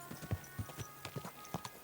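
Horse hooves clip-clop at a steady walking pace in Kingdom Come: Deliverance II, a string of distinct, moderately close hoofbeats over faint ambient background.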